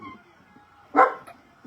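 A single short dog bark rings out at middle distance, followed by a fainter yip, over a quiet indoor background with faint hum.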